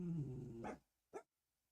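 A dog named Rock growls at another dog, Apollo, who is trying to get him to play: a close, low rumbling growl of under a second, followed after a short pause by one brief sharp sound, then quiet.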